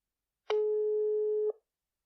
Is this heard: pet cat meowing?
no